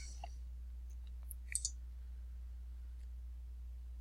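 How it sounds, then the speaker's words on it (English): A couple of faint, quick computer mouse clicks while right-clicking, soft and close over a low steady hum. "So if we right click, open the link in a new tab."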